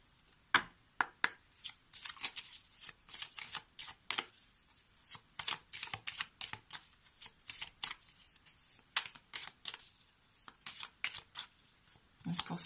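Lenormand oracle cards being shuffled by hand, a steady run of quick, crisp riffling bursts in an irregular rhythm, close and fairly quiet, with no one speaking.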